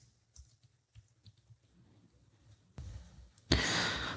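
Someone types a plugin name on a computer keyboard, producing a handful of soft, close key clicks in an irregular rhythm, followed by a louder rushing breath-like noise toward the end.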